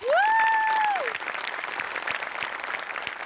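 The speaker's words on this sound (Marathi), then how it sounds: "जोरदार टाळ्या" Loud audience applause at a Marathi stage comedy show, with a bright rising electronic tone sounding over the opening second before steady clapping continues.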